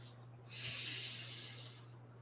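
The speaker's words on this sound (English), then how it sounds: "Let's take a breath." A single slow, audible inhale followed by a long breathy exhale, close and soft over a steady low hum, with no words spoken.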